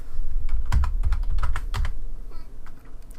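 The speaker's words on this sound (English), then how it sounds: "we just type in United States" Fingers type a search for United States stocks on a computer keyboard, a quick, uneven run of close, crisp key clacks that slows toward the end.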